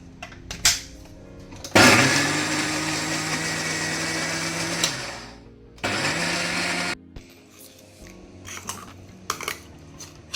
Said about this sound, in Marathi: नारळाची चटणी वांटून जाली